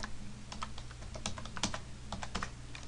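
A password is typed on a computer keyboard, with quick, irregular keystrokes clicking up close in short bursts and brief pauses, and no talking.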